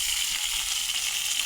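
Potatoes frying in a pan give a constant broadband sizzle, close and steady over a short moment with no voices.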